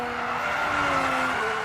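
A Formula 1 car skids toward the wall in an F1 racing game, a sustained loud tire squeal over engine whine.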